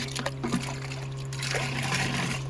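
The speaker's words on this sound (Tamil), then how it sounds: "நல்லா நுர வர மாதிரி ஆற்றணுங்க." Liquid fertilizer solution poured back and forth between containers to froth it for rose plants, a close, steady trickling and splashing stream with a constant low hum underneath.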